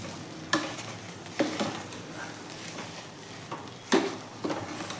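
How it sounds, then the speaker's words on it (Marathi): Puran filling with nutmeg, fennel and cardamom stirred in a pot, a handful of spaced spoon scrapes and knocks over a faint low simmer, close and quiet with no talk. "आणि आता हे सर्व व्यवस्थित आपल्याला मिक्स करून घ्यायचे आहे"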